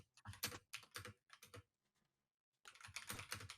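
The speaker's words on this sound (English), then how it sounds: "Why are you typing so viciously?" Rapid, forceful typing on a computer keyboard comes in a dense flurry of clicks, pauses for about a second, then resumes just as quickly, close up with no talking.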